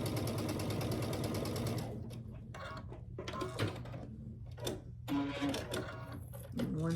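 A sewing machine stitches a quilt block, a steady fast mechanical whir at first, then short bursts of stitching broken by pauses and small clicks and handling noises, close up and fairly loud.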